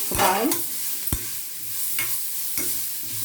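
Grated raw banana fries in a pan with curry leaves, giving a steady low sizzle broken by several sharp stirring scrapes and knocks spaced about a second apart, close up with no talking.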